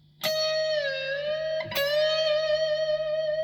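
Electric guitar note on the D string in first position, bent upward one and a half tones, then picked again and held; a clean, sustained tone with two distinct plucks, close and alone.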